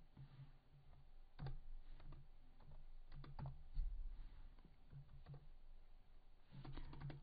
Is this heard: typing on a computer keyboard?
yes